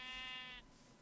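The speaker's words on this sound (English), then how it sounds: "Oh, just a sheep." A single sheep bleat from the video game Minecraft, a buzzy, wavering call lasting about half a second, then fading into quiet background hiss.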